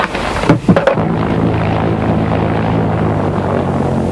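A propeller plane bringing bulk newspaper copies to Sanday, its engine drone steady and loud after a few brief knocks at the start, with no speech over it.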